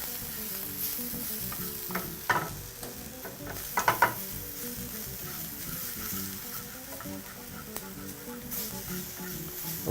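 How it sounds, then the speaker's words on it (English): Spring onion and leeks sweating in a pan over medium-low heat, a steady soft sizzle with a few louder stirring clatters, close and without talk. "We'll add in our spring onion. And we're basically going to allow that to sweat out for just a little bit."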